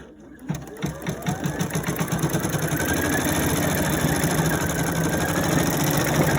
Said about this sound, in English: we're just going to stitch out the outline so that we know where to place our felt